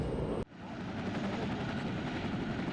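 A UN mission helicopter in the desert near Gao, Mali, gives a steady, loud roar of engine and rotor that begins abruptly and continues without a break.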